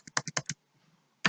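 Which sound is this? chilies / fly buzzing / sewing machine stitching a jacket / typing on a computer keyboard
typing on a computer keyboard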